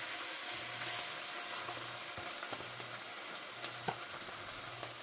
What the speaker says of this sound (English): Now let's get the chops. Lay them evenly down.